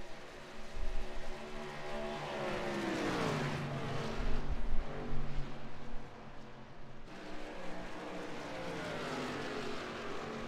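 Racing trucks at speed on the Atlanta track, the 54 truck closing fast with the 00 right behind, engines roaring past with a rising and falling Doppler whine, loud and close, layered over continuous race noise.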